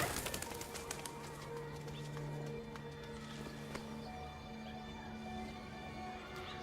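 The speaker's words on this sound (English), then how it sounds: "Hello, pigeons." Pigeons coo in a city street scene in the video game Detroit: Become Human, soft repeated low calls heard among ambient background noise, with a few sharp clicks near the start.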